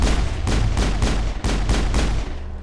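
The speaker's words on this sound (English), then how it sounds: "So this thing allows me to shoot very quickly." Rapid gunfire from a weapon in the video game Mass Effect rings out as a loud, close string of about seven evenly spaced shots with no talk over it.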